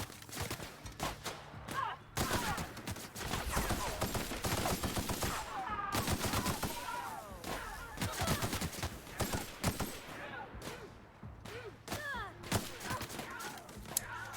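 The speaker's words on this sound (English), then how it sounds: "Forgot I had the shotgun and not the assault rifle." Video game combat in The Outer Worlds: rapid, dense bursts of shotgun and other gunfire with impacts, loud and nearly continuous, with brief pauses and mixed game effects.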